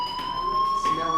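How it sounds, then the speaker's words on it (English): Fire alarm ringing in the video game Life is Strange, a steady high electronic tone held without break for the whole moment, with faint background ambience. "do you hear that fire alarm?"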